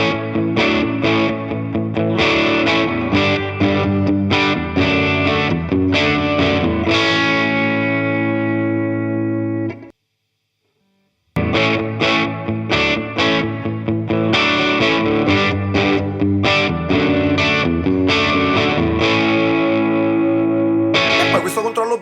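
Electric guitar played through a Carl Martin HeadRoom Mini reverb pedal, sustained chords and picked notes ringing out with a lush reverb tail, loud and alone, cutting to silence briefly before resuming.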